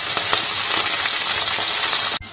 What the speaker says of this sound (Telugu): నూనె వేడైన తర్వాత ఆవాలు, ఇవి గోలిన తర్వాత ఉల్లిగడ్డ, పచ్చిమిర్చి కలపెట్టాలి